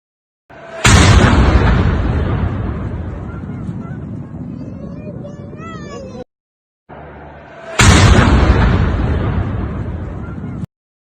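A rocket explodes in the Al-Qadisiyah residential complex in Baghdad with a loud, sudden blast that rumbles and fades over several seconds, followed by a second identical booming burst.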